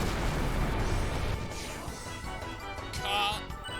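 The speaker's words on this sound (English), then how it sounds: "I'm gonna vomit up some fire on you" A fire attack spell from the video game Chrono Cross erupts as a loud, dense crashing roar with crackling bursts, easing slightly midway before swelling again near the end; no one speaks.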